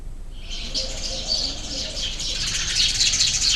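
Small birds, likely sparrows, chirp and twitter continuously in a bright, busy chorus around an artificial nest, fairly close, with a steady background hiss.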